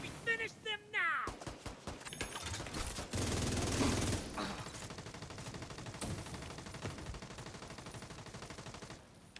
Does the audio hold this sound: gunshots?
yes